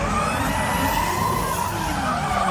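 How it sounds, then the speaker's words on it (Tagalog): Cars drift at a Drift Fest, tires screeching in long skidding squeals over a loud roaring engine, continuous and fairly close throughout. "nanood muna kami ng Drift Fest."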